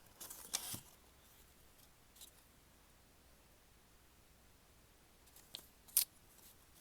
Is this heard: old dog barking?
no